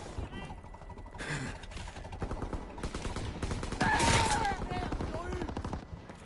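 Machine gun fire in a Call of Duty WWII multiplayer match, rapid bursts and explosions layered throughout with a person talking over the gunfire.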